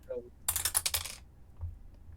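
Dice tumbling and clattering on a table during a tabletop game night, a quick burst of hard rattling clicks lasting under a second, followed by a soft low thump.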